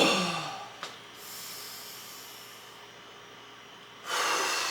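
Heavy breathing after a leg-day workout, a sharp breath at the start, then a long, soft hissing exhale, and a loud rushing breath near the end, close to the microphone.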